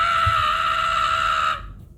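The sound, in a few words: voice imitating the Ram Rider scream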